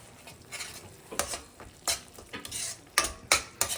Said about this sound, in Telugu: శనగపిండి వేసి వేయించాలి.